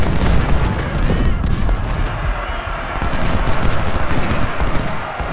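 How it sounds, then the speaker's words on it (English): Artillery in a Civil War video game battle booms over a dense rumble of gunfire and explosions, loud and continuous throughout. "we got an artillery unit there that's trying to lend some fire support"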